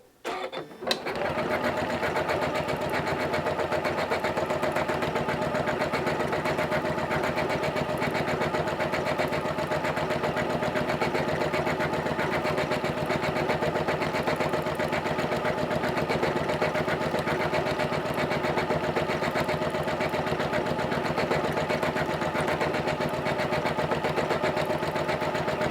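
A Janome CM17 sewing machine sews a decorative loop stitch, running at a constant, even whirr with a fast mechanical patter throughout, loud and close, with a brief start-up at the beginning and no talk.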